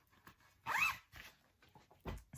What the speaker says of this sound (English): Sorry for the zipper sounds